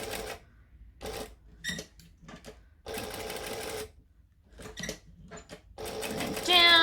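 A sewing machine stitches a small D-ring tab in a series of short separate bursts, some brief and some about a second long, close and distinct with quiet handling sounds between.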